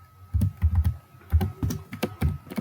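A computer keyboard is typed on in quick bursts while an HTML document is written, crisp close keystrokes in uneven clusters with short pauses between.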